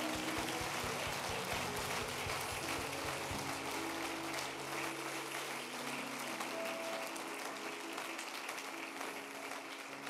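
A church congregation applauds and acclaims, a dense, steady wash of clapping from many hands filling the room, with faint cheering mixed in and no speech.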